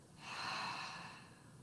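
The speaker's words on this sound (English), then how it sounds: "Open your mouth and exhale audibly." A single long, audible breath pushed out through an open mouth during a yoga session, soft and airy, swelling then fading slowly, close to the mic with no talking.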